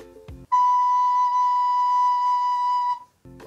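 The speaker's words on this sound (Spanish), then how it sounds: "El si suena de esta forma." Soprano recorder sounding a single sustained note B for about two and a half seconds, steady and clear, with brief speech just before and after it.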